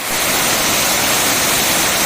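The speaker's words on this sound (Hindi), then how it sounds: "इस वाटरफॉल के ऊपर से गिरता हुआ पानी" Water plunging over the rock ledge at Tirathgarh Waterfalls makes a loud, steady, broadband roar that does not let up, with no voices.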